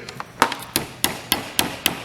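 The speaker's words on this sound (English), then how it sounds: "And that's just by getting a little hammer, something like this." A small hammer taps plastic T-molding into the edge of a wooden arcade bartop cabinet kit, a series of about eight sharp, evenly spaced knocks, close and alone.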